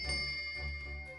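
A small bell rung by a pulled bell cord in a ship's cabin in The Great Ace Attorney, giving a short bright jingle that rings out over a steady tonal background.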